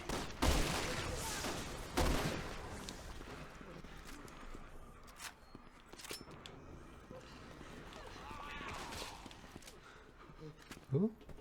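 Gunfire in Resident Evil 6, bursts of shots cracking loudly at the start, then scattered reports and game noise continue under voices talking.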